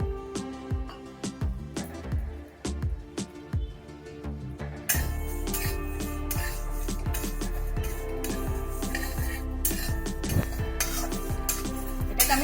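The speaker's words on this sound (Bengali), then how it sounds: "এটাকে আমি লাল লাল করে ভাজা ভাজা করব" Mung dal toasts in ghee and oil in a hot pan on a gas stove. A spoon scrapes and clinks against the pan in regular strokes, then a louder, denser sizzling with clatter takes over.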